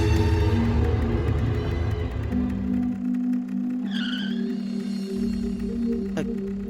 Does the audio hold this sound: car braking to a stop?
yes